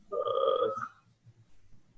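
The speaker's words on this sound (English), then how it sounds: "my phone's ringing, sorry about that" A phone rings once with a short, bright electronic tone, fairly near, then fades to quiet background murmuring.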